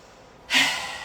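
A single deep breath during a qigong breathing exercise: a strong, airy inhale-exhale that swells suddenly and fades slowly, close and clear with nothing else around it.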